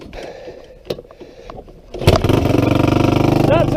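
Honda 350X engine fitted with a 400EX carburetor, on a 34-degree day, kick-started with a few scraping kicks before it catches and settles into a loud, close, rapidly pulsing idle; a person talks briefly before it fires.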